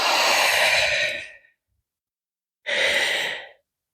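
Two long, breathy exhales during a yoga session, each lasting about a second, separated by silence, close and clearly audible.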